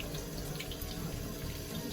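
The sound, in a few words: water running from faucet to wash vegetables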